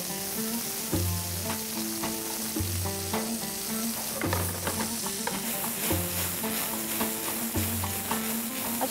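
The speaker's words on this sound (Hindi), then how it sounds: "हमने अनियन के बाद इसमें डाला है कीमा, चिकन का कीमा, और इसको हम भून रहेंगे" Minced chicken sizzles and fries with onions in a pan, a steady dense crackle running throughout with stirring, no voices over it.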